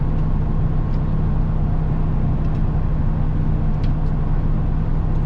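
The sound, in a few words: Bounder motorhome engine idling while warming up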